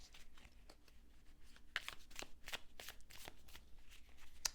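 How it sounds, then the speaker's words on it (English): Tarot cards being shuffled during a card reading, a steady run of soft papery riffles and slaps repeating through the clip at low, close level with faint background noise. "let me go back to shuffling here"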